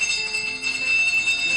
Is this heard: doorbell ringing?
yes